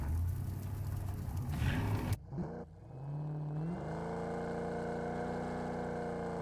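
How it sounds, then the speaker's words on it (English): F1 car engine in the PUBG Mobile video game, a loud revving drone that cuts out abruptly, then settles back into a steady, rising engine tone that holds on to the end, with no voices. "He takes some eliminations with the F1 car, and he is able to complete it graciously."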